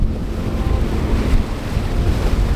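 Loud, steady roar of ocean waves and wind buffeting a reefed sailboat crossing the Great Australian Bight in a storm, with heavy microphone wind rumble throughout and no voices.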